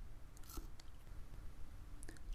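Close, soft chewing and biting of salmon, with moist mastication and occasional small crunchy bites repeating steadily in a quiet setting.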